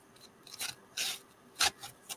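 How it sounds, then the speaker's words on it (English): Dry floral oasis foam pushed into a box during spring home decorating gives several short, close scratchy rubs and squeaks in separate bursts, fairly quiet and with no talking. "That's just some dry flower oasis going into there."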